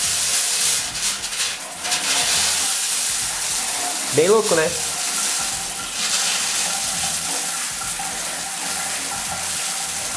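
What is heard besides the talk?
shower water sputtering with air in the cold water pipe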